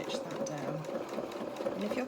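A sewing machine top-stitches a seam in fabric for a small sailing anorak, running as a steady, continuous mechanical whir with a fine rapid needle rhythm throughout, close and fairly loud.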